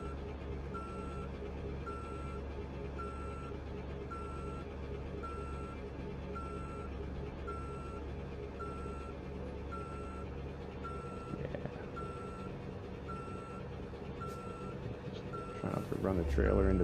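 A truck in Euro Truck Simulator 2 backs in with evenly spaced reversing beeps over a steady engine drone, while a voice talks on and off above it; near the end a louder rumbling burst cuts in.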